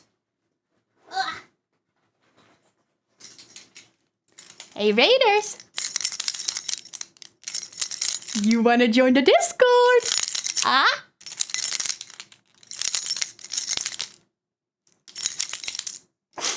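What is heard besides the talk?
keys jangling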